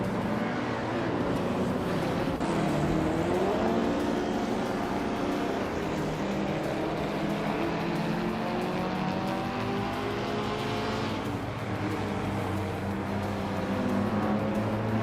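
Race cars, including a 1971 Nissan Skyline 2000 GTR, roar continuously in a racing game. Engines drone and shift pitch as they climb and fall, loud and sustained, with no talk.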